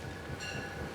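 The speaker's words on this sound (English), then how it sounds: "every morning hundreds of locals board these trains bound for Wall Street" A commuter train runs from Ridgewood, New Jersey toward New York, a brief, steady rumble with a metallic whine rising partway through.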